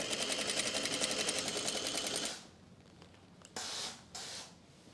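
A sewing machine stitches a French seam on tulle for a wedding guest dress, running in a steady rapid whir for about two seconds before stopping, followed by faint rustling of fabric and two brief scraping handling sounds.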